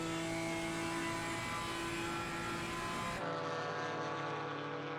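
BMW and Porsche GT4 race cars in Assetto Corsa Competizione scream down the straight, a loud continuous high engine drone with steady tonal whine that shifts pitch partway through as the cars pass.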